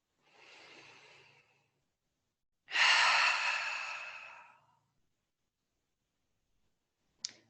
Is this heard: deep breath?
yes